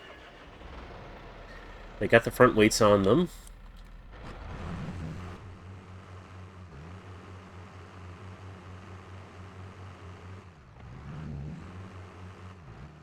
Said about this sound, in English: Let's fire up the tractors.